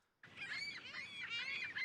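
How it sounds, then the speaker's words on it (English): Seagull cries sampled in a hip-hop beat, a steady run of overlapping squawks and honking calls that starts abruptly and stays dense and fairly loud, with no talk over it. "Oh, these are seagulls. These aren't just any birds."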